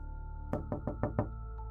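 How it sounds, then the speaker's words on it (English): Five quick knocks on a door, evenly spaced and fairly close, standing out alone against a quiet steady background hum. "Dewi knocked again."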